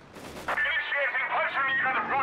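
FT-42 gunfire bursts out in the Company of Heroes 3 strategy game, a sudden volley of crackling shots followed by a sustained clattering rattle, moderately loud amid the battle soundscape.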